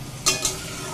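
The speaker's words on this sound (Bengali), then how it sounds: "এবারে এই যে মশলাটা বেশ ভালোভাবে কষিয়ে নিতে হবে" Whole spices (cinnamon, cardamom, cloves, bay leaf and dried red chili) sizzle in hot oil for a taro-leaf dish, and two quick scrapes of stirring break through the steady frying hiss.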